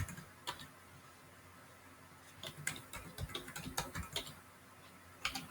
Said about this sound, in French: Et là, je vais taper asynchrone.